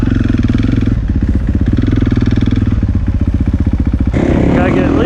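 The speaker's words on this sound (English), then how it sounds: "I just had to take it for a ride around the grass track while I was there." A 2016 KTM 450 XC-F dirt bike ridden around a grass track, its engine loud and close, pulsing hard as the throttle rises and falls, then easing into a lower rumble.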